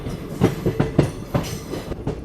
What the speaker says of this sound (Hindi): पर अब फाइनली अपना अराइवल हो रहा है बरेली जंक्शन रेलवे स्टेशन पे